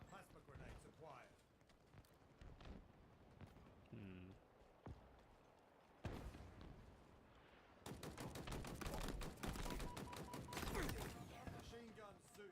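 Machine gun fire in Halo Infinite during a Big Team Battle match, bursts of rapid shots growing dense and loud in the second half, mixed with other game sounds and voices talking throughout.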